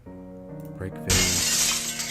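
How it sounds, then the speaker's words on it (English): A vase breaks in a video game with a sudden bright crash of shattering glass after a short rising tone, the shards ringing on to the end. "Break vase."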